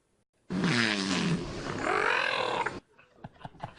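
A trained whale lets out a long, loud, rough, voice-like two-part call, low and growling, then stops, leaving faint background murmurs and clicks.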